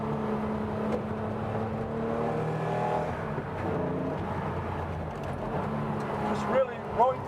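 A 1967 Porsche 911R tribute engine pulls hard up through second and third gear on a rocky road, a steady mid-level drone that rises and dips with the shifts, while someone talks over it throughout.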